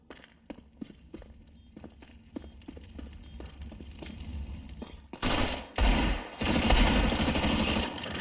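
MAC-10 submachine gun firing in a Counter-Strike match on B site, dense rapid bursts loud and close after a stretch of quieter footsteps and scattered distant shots.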